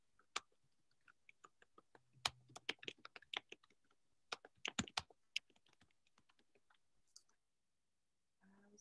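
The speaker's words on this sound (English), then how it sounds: "Let me type the actual thing." Typing on a computer keyboard: a close, irregular run of crisp key clicks in quick bursts and short pauses, with no other sound behind it.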